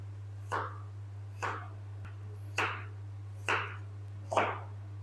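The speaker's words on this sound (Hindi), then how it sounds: "इस आलू की भी हमने उसी तरह से कटिंग कर लेनी है।" A knife cuts through potatoes on a board in five distinct, evenly spaced chops, each crisp and close, over a low steady hum.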